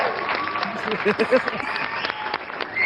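Live show crowd cheering and clapping at a gaming event, a dense roar of applause heard for a few seconds with people talking closely over it.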